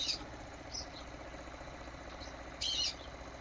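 Pet birds kept in a cage indoors give a few brief, high chirps, one at the start, one soon after and a louder one near the end, over a quiet room hum.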